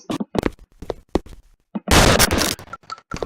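Gunfire in a Unity first-person zombie survival shooter: a string of sharp, loud shots in irregular bursts, with a dense crackling burst of rapid fire in the middle and no talk.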